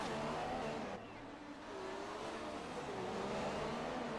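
Formula 1 race car heard from onboard with Lewis Hamilton, a loud sustained engine whine with pitch rising and dipping through gear changes, a brief lift around the second mark before the engine note climbs again.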